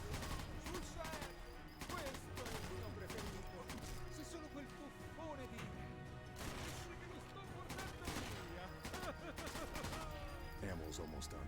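Rapid machine gun fire in Sniper Elite 4, dense bursts of shots filling the clip alongside other game noise, with voices talking over the steady barrage.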